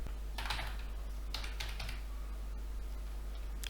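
A password being keyed in on a computer keyboard, two quick bursts of clicking keystrokes and a few isolated taps over a constant low hum.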